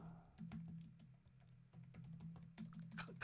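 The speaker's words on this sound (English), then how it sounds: "But I keep on typing in U when I write glided" Quiet typing on a computer keyboard comes in bursts of rapid key clicks separated by short pauses, close and soft, with no talking.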